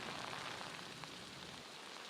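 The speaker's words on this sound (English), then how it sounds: "now the rain is coming down, and it's that wind-driven rain" Wind-driven rain pours down at Daytona Beach during Hurricane Matthew, a faint, steady hiss of rain hitting surfaces with a soft, even wash of noise and no talk.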